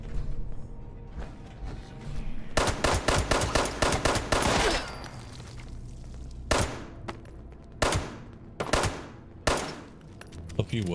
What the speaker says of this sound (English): A few well-placed shots.